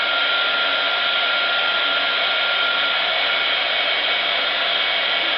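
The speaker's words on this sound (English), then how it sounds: "I'm going to use my heat tool" A heat tool blows a steady, loud, close whooshing hiss without pause while drying watercolor on a coffee filter flower, its airflow constant and unbroken, with no talking.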